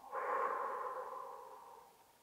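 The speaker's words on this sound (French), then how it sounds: "et vous relâchez en soufflant" A single slow, soft exhale through the mouth after holding the breath during a sophrology relaxation exercise, close and gentle, fading out over about two seconds with no talking.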